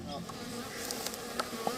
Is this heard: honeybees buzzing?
yes